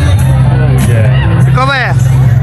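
Dense crowd at a Vijaya Dashami idol immersion ghat in Doom Dooma: a steady, loud hubbub of many voices and shouts over a constant low drone of traffic and crowd noise.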